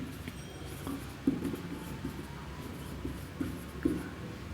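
Someone writes on a board, producing faint, close scratching strokes with a few small taps, low and steady, with no voices.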